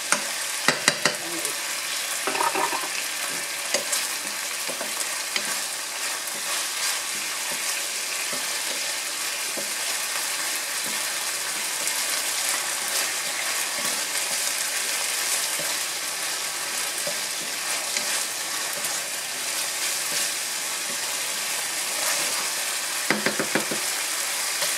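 Onions frying in a pan, a dense, steady close-up sizzle and crackle that runs throughout with occasional stirring, loud and continuous with no talking.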